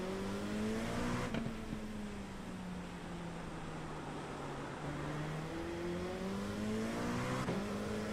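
Race car in the iRacing sim on a wet-to-dry track, engine droning steadily with rising and falling pitch through gear changes, loud and continuous with no talk.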